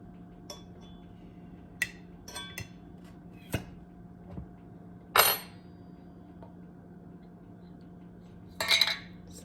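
A fork prying at the lid of a glass jar of preserved eggs gives sparse metallic clinks and taps, with two brief louder scraping bursts near the middle and the end, all fairly close and quiet.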